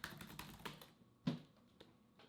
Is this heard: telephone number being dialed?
no